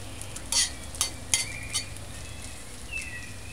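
Scrambled eggs being stirred in a frying pan: a soft continuous sizzle with a few sharp scraping clinks of a utensil against the pan, close and without talk.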